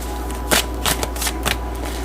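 Tarot cards being shuffled by hand in quick riffling bursts, several rapid flicks in an uneven rhythm over a low steady hum, close up.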